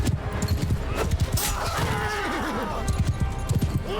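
Cavalry horses gallop across a medieval battlefield in Mount & Blade II: Bannerlord, with rapid, overlapping hoofbeats, a horse's whinny and a steady battle din all mixed together.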